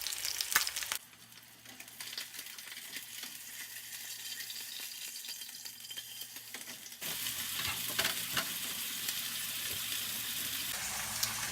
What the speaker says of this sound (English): It's starting to really steam up, so I'm going to stir it a little bit, and then just wait for the salmon to cook.